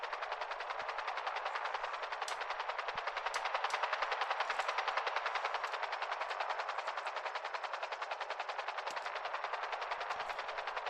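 Sustained automatic gunfire in a GTA roleplay game, a rapid unbroken rattle of shots lasting the whole stretch with a few sharper cracks standing out, loud and without voices.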